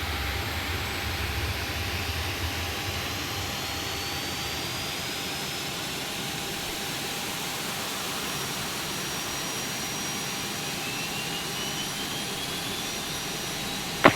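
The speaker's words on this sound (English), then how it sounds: "You see the engines are starting up." Ryanair airliner jet engines spinning up in the X-Plane 11 flight simulator, a steady loud roaring whine with a thin rising tone, continuous throughout with a sharp click right at the end.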